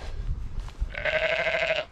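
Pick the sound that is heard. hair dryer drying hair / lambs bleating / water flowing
lambs bleating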